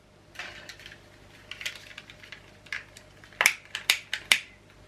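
Scissors cut through ribbon for a handmade scrapbook album, with soft handling rustles and then a quick run of three or four crisp, close snips near the end.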